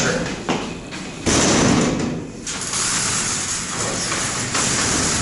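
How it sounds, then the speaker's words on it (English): A heavy door on a vintage traction freight elevator being opened, a loud metallic rumbling slide with a thud and grinding mechanism noise, close and sustained. "This is a very heavy door."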